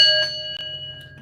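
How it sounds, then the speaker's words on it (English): A bell rings once, a clear metallic tone that rings on and slowly fades, fairly loud and close, with a faint tap partway through. "Let's ring the bell."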